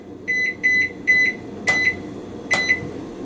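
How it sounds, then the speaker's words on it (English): A digital kitchen timer being set in a kitchen gives five short, sharp beeps in an uneven rhythm, close and fairly loud, with no one talking. "So I'm going to set a timer for that."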